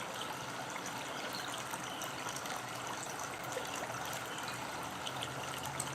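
Water poured steadily into a cup during a full moon ritual, a faint continuous trickling stream with no clear break.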